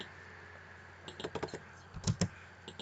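A few quick keystrokes on a computer keyboard, two short bursts of clicky taps, the second ending in a firmer press like an enter key, close up over a quiet room hum.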